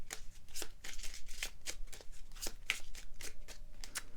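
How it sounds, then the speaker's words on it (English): Oracle cards from a Language of Flowers deck are shuffled by hand, giving a quiet series of crisp, evenly spaced riffling swishes and soft card flicks at close range. "Let's also draw a card from the Language of Flowers deck."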